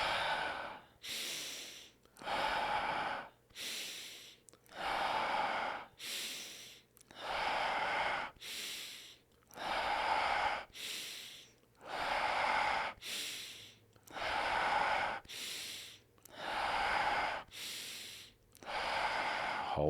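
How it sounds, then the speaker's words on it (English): A person breathes deeply during a guided breathing exercise, with about a dozen slow, regular in-and-out breaths separated by brief pauses, close and clear with no talking. "I will just breathe in and breathe out"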